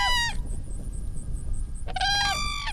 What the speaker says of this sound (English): That's a sound you do not get to hear very often, the call of the whooping crane.